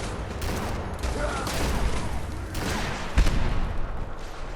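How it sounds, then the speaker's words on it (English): Sustained burst of automatic gunfire in Fallout 4, dense rapid cracks layered with booms and broadband rumble, loud and continuous for several seconds with a sharper impact near the end. "Ooh, machine gun."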